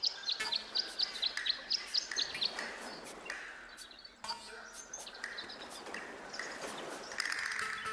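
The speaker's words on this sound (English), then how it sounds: "The birds seem to like it. They're even singing a little tune." Chirpy bird song plays at a garden bird bath in the video game Tangle Tower, a quick run of bright repeated tweets at the start, then scattered calls over soft ambience.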